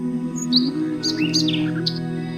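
A colourful bird chirps in a few quick, high, bright tweets over a sustained musical drone, close and fairly loud.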